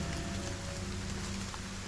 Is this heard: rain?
yes